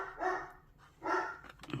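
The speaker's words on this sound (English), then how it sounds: "There's a dog outside barking, and obviously it's just saying hi." A dog barks outdoors in two drawn-out, moderately distant barks about a second apart, with a short yip at the end, heard alone without talk.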